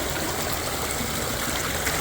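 Steady churning and rushing of water stirred by a spinning propeller on a radio-controlled submarine, a dense, even wash with no pauses and no talk.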